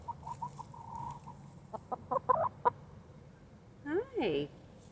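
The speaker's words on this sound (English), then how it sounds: "little chickens." Little chickens cluck in short bursts, close by and soft, among a faint low murmur, with a rising call near the end.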